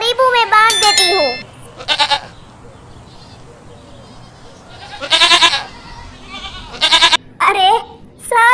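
Goats bleat in several loud, wavering calls separated by pauses, some close together and overlapping, over a faint background hum.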